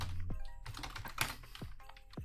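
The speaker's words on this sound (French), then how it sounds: "Vas-y, fais ton petit bruit de clavier" Computer keyboard keys clatter in quick, uneven bursts of close clicks and taps, with a faint voice murmuring underneath.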